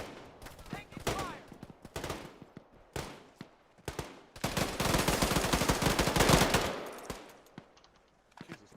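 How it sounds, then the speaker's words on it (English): Gunfire cracks out during a combat lifesaver training exercise, with scattered sharp shots followed by a dense, sustained burst of rapid automatic fire, then more sporadic shots trailing off. "Taking fire!"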